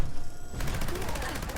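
A Gauss minigun fires a rapid, sustained burst in Fallout 76, the dense gunfire starting abruptly and rattling on continuously at close range.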